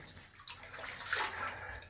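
Water pours and splashes from a cut water line, a steady rushing flow with a brief surge, heard close and alone without talk.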